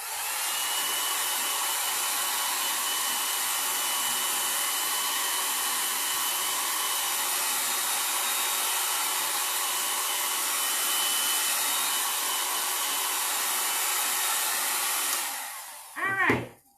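A hair dryer blows steadily, close and loud, drying paint on a cardboard craft creature, a constant rushing whoosh with a faint whine for about fifteen seconds before it switches off with a brief falling tone.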